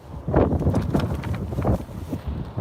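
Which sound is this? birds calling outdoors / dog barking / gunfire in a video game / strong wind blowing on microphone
strong wind blowing on microphone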